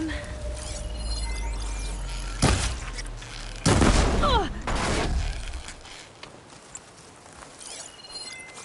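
Heavy cannon blasts in the video game Horizon Forbidden West: several loud booms with crackling debris, then quieter rumbling aftermath.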